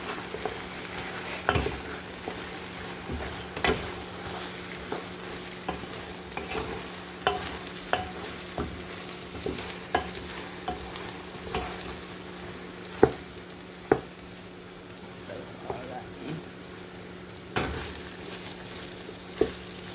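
Prawns go into a pot of okra stew, which fries with a steady low sizzle while a spoon stirs and scrapes in frequent sharp clicks and taps throughout, with no talking.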